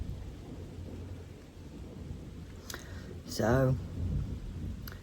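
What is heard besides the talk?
thunder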